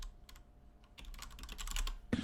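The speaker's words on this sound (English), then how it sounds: "sorry. I was typing." Rapid clicking of keys on a computer keyboard, a steady patter of close, light taps with a brief louder knock at the end.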